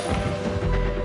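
Two quick gunshots from a film scene, sharp loud cracks in close succession over a dense, booming background.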